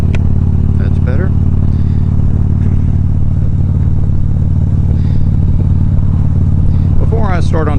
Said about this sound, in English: there's nothing wrong with my bike. She's running well.